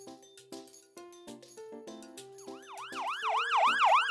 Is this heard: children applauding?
no